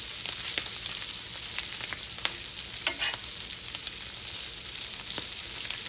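Sausages and bacon frying in a pan, a constant close crackling sizzle with scattered sharp pops and a brief scrape of stirring, no voices.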